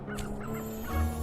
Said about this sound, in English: Stop it with the birds!